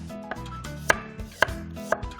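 A kitchen knife slices onion on a cutting board for Korean zucchini pancakes and stew, with three or four crisp, evenly spaced chops over a soft background.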